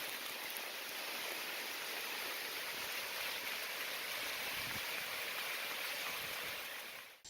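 Center-pivot irrigation sprinklers spray water over crops on a Brazilian farm, a dense, continuous hiss of falling spray, loud and even throughout with no voices.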